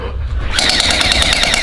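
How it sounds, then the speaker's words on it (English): A Surge gel blaster toy gun fires eco-friendly gelatin gel balls in a rapid, steady rattling burst that starts abruptly and runs continuously at close range, with no talking over it. "Now with the gel blaster surge, these gelatin in here are actually eco-friendly, so super safe."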